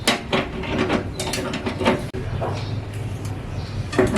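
Long nose pliers work a nut tight on an oven heating element connection, giving a run of close metallic clicks, scrapes and ratchety grinding with short pauses between twists.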